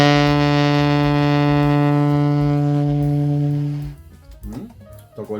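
A saxophone sounds a single sustained B note, steady and close for nearly four seconds, then stops, leaving a brief patch of quiet room noise and some faint movement.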